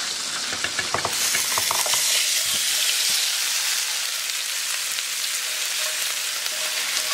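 Oxtail pieces drop into a hot pot for Jamaican oxtail and break into a loud, steady sizzle, with a few clattering thuds from the meat landing early on, then a continuous frying hiss.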